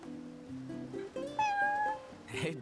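A cat in Final Fantasy XV meows several times, with drawn-out, rising and falling tonal calls, close and clear over quiet game ambience.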